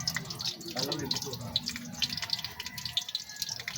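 Water running from a tap, splashing and trickling at close range with small drips, while people chat in the background.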